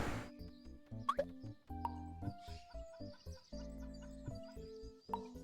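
Chickens cluck in the Autonauts video game, a busy run of short clucks and chirpy calls over layered game tones and music, with no talk.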